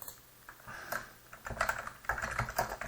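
Quick, irregular keystrokes clatter on a computer keyboard, close and fairly quiet, in short bursts over a few seconds with no talking.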